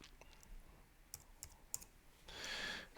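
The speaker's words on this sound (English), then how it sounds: "I'm typing" A few faint, scattered clicks of typing on a computer keyboard, quiet and sparse, followed by a soft rising hiss near the end.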